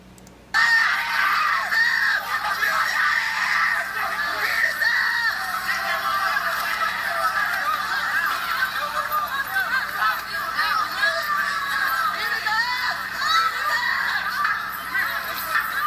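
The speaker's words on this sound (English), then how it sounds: "the ones that are screaming out, beat his ass, those are the paid protesters" Protest crowd at UC Berkeley screaming and shouting during a beating, a dense, continuous wall of raised voices and yelling that runs loud and unbroken throughout.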